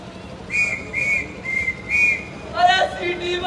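Four short steady whistle blasts sound in even succession, followed by a brief warbling trill and a lower tone, onstage during a Hindi stage play performance.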